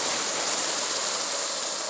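Hot water is poured into a pan of fried suji and tomatoes for soft upma, giving a steady, loud rush of hissing sizzle that does not let up for the whole moment. No one speaks.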